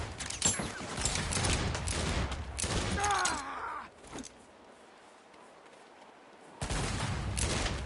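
Dense bursts of automatic gunfire rattle in the video game Saints Row, loud and continuous for several seconds, then a quiet gap before another heavy volley resumes.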